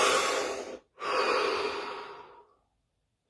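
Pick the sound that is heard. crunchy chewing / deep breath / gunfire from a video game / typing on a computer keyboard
deep breath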